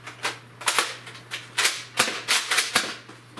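Repeated mechanical clacks and ratchety clicks from priming a Nerf Rebel blaster, coming in quick uneven bursts close up with a steady low hum underneath and nobody speaking.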